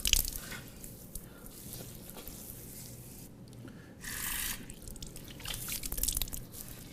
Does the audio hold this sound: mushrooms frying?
no